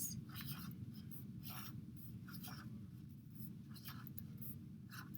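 Marker or chalk scratches and strokes on a board in short bursts as a season diagram is drawn, recorded close, while a voice talks quietly underneath.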